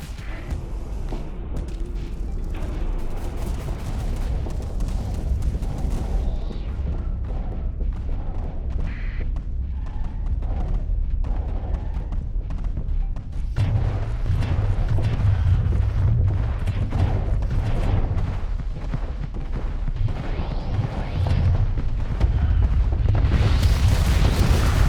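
Reaper torpedoes being shot down in the Starsector space game, a dense, continuous barrage of booms and blasts with heavy rumble, loud throughout and building toward the end.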